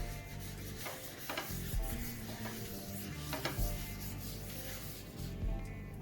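A tissue rubs oil across a hot flat pan for godamba roti in a home kitchen, making repeated soft scraping strokes over a faint sizzle.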